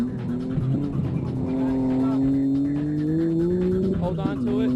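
Nissan Skyline street car on a hot lap at a racetrack, engine droning steadily with rising pitch under acceleration, a brief tire chirp near the end, with commentators talking over it.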